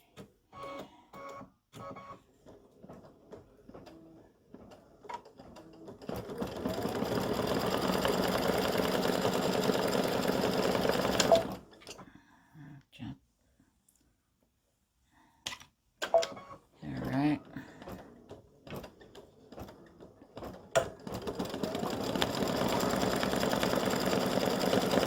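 A stitching machine sews a Valentine design onto flip flops with a fast, steady mechanical buzz that runs in long stretches, stops for quiet pauses, and is broken by short clicks and clacks.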